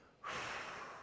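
One forceful breath blown out hard, a sudden loud rush of air that holds steady for nearly a second, close to the microphone in a laughter yoga session.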